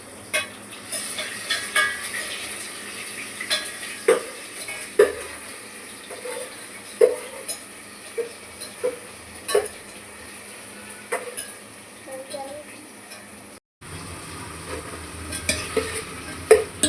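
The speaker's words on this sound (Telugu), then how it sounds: "అల్లం వేసుకొని మిక్స్ చేయాలా." Spoon stirring ginger into mutton curry in a pan, with repeated scraping clinks against the metal over a soft steady sizzle, close and moderately loud, with no talk.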